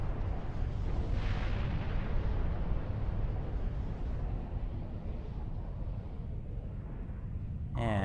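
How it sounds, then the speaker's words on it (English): A ship explodes in the video game EVE Online with a deep, rumbling roar that swells and lingers for several seconds before fading into a continuous low rumble. "We've taken off the shields, we've taken off the armor, we've taken off the structure, and it explodes"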